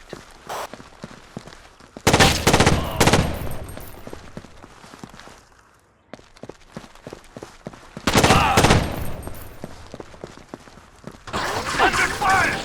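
Bursts of automatic gunfire from Rainbow Six 3 on the original Xbox erupt in two heavy volleys separated by quieter stretches of single shots and footsteps, with team voices talking amid the shooting.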